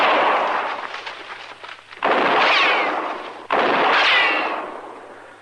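Gunfire in a Western radio drama: three loud, sharp rifle shots in the brush, each followed by a long ringing echo that trails off, with no talk between them.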